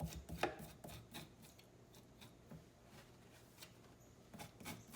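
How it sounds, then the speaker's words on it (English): A knife scraping scales off a salmon fillet, a series of short raspy strokes, close and moderately quiet with irregular pauses between passes. "Now these scales are coming off rather easily, and that's great."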